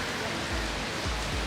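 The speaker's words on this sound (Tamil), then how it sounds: "பாருங்க வெளியில் வந்து மழையை பாருங்க. பெட்டிய மழை பெய்யுது." Steady heavy rain falling outside in Colombo, a dense continuous hiss with a few low rumbling thumps.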